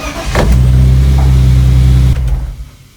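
A BMW E30 engine, running without its radiator, cranks and fires up loud and close, then settles into a steady, throbbing idle for a couple of seconds before the revs drop and the note fades away.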